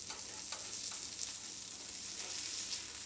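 Surmai fish fillets in green masala shallow-frying in oil over a low flame, a steady close hiss with soft crackles and pops throughout, no voices.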